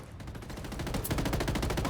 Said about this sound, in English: Open fire. Roger that. Shots fired.